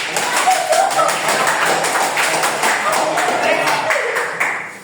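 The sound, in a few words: applause for Monica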